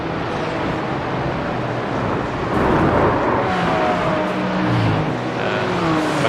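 Race car engines roar steadily in an iRacing sim race of the IMSA Michelin Pilot Challenge at Mosport, with a McLaren, BMW and Porsche in the pack. The dense drone swells briefly as cars pass, with no voices.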